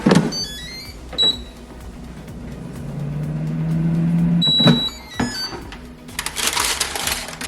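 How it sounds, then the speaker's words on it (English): An air fryer is loaded and switched on: a series of electronic beeps and clicks, a basket sliding into place with a thump, a low whirring hum, then a rising fan rush toward the end. "Let's pop this in the air fryer"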